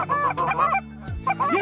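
Canada geese honk loudly and close by, several harsh, nasal calls in quick bursts with a short pause in the middle.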